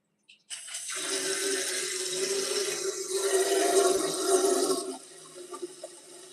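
Water pours steadily for several seconds, a loud close rush like a running tap filling a container for a pet, then cuts off abruptly, leaving faint clinks and room noise, with no one speaking.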